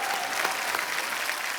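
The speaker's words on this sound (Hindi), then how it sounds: "उसके लिए भी तालियां।" Studio audience clapping on a TV comedy show, a steady crowded patter of hands lasting under two seconds with no voices over it.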